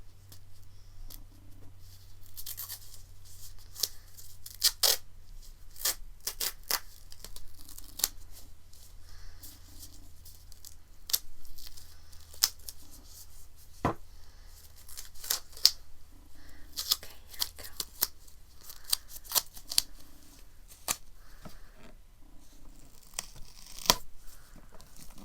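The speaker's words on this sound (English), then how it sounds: "I'm just going to use a little tape to secure the line" Soft tape tearing and crinkling in a quiet ASMR medical roleplay, scattered sharp rips and rustles at close range over a faint low hum, with no talking.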